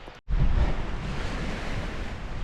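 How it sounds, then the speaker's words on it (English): Water of a loch estuary in Scotland laps on the shore like ocean waves, a steady loud rushing wash mixed with wind buffeting the microphone, and no one speaking. "That it sounds like the ocean lapping on a beach."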